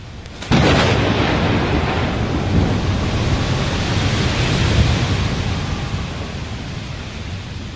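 A thunderstorm with lightning striking temple pagodas: one sharp, loud crack of thunder breaks out and rolls into a long, heavy, rumbling wash that slowly fades over several seconds, with no voices.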